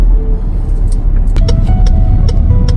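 Cars on a road at Ibu Kota Nusantara being directed to park, a loud steady engine rumble close by with faint light clicks and squeaks on top.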